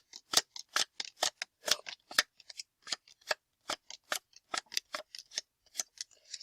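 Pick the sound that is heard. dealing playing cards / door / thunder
dealing playing cards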